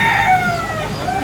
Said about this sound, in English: I have no idea why there are wild roosters on the loose here